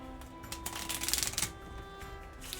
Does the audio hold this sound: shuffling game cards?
yes